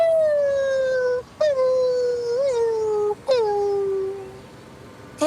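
A fox terrier howls and whimpers in long, falling, tonal wails broken by brief gaps, close and loud, in a staged comedy scene.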